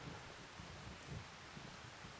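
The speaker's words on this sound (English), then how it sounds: "Got a bit of rain." Steady, faint rain hiss in Farming Simulator 25, a soft continuous wash of falling drops with no voices over it.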